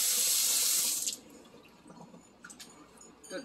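Water gushes loudly into a bowl of beans being washed and filtered for gonré for about a second, then cuts off, leaving soft sloshing and a few faint drips.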